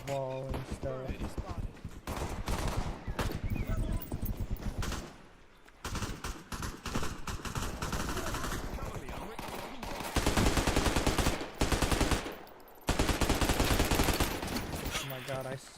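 Bursts of rapid automatic gunfire from a bot in a first-person shooter video game, in loud repeated volleys separated by brief pauses, with a voice talking over part of it.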